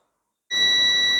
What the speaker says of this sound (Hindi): अब देखिए बीप साउंड दे रहा है